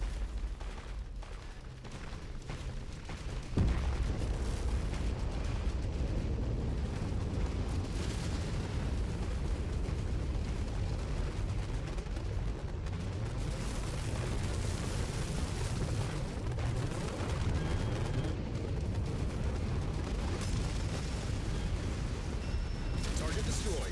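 Artillery shells and explosions rumble continuously through a war video game, a heavy low barrage that starts with a sudden loud onset and keeps booming under a voice talking throughout.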